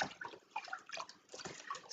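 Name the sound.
squeezing water out of a wool nappy cover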